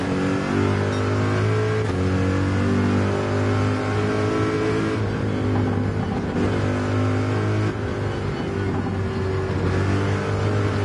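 Race car engine in Gran Turismo 7 holding a loud, steady drone with strong harmonic bands, shifting pitch slightly as it revs through a slow corner, with no talk.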